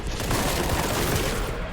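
A plasma gun fires continuously in the shooter game Boltgun, a dense, loud, roaring barrage of overlapping blasts with no pauses.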